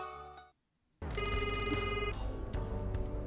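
An electronic phone ringtone plays in a video game while placing a call to Mr. Sato, a steady warbling ring with harmonic tones sounding loud and continuous after a brief silence.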